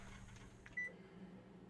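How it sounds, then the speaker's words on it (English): A kitchen timer gives one short, clear beep partway through, over a low steady background hum with no talking. "Set the timer."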